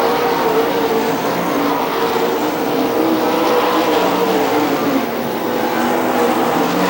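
Race cars roar around a motorsports park oval in a dense, loud, continuous engine drone, with overlapping cars sustaining a steady snarl and no clear pauses.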